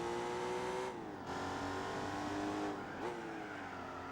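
An Aston Martin Vanquish engine in Gran Turismo 4 drones steadily through upshifts, its pitch dipping at each gear change and climbing again, loud and continuous with no talk over it.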